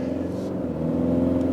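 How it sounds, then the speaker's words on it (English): Steady engine drone from a new Toyota Land Cruiser out on the road, heard from inside the cabin: a loud, continuous low hum with a constant tonal whine, no voices. "there is quite a lot of engine noise"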